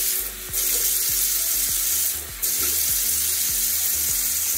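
Cold water running from a kitchen tap into a small measuring cup, a loud steady splashing stream with a couple of brief shifts in flow, up close with no talk.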